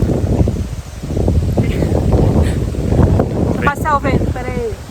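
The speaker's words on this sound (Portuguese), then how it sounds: "Passar o vento, peraí. é o ciclone extratropical de novo." Strong gusts from an extratropical cyclone roar and buffet the microphone on a rural ranch road, loud and continuous, with brief rustling and a short voice near the end.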